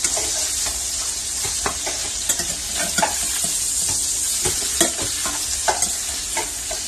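Salisbury steak patties fry in a hot pan over medium heat with a steady, close sizzle, broken by scattered pops and scraping clicks as they are turned.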